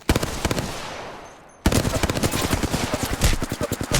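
Rapid Hemlok burst-rifle gunfire from Apex Legends, loud and close, with dense repeated shots, a brief fade-out pause, then a sustained stretch of rapid firing.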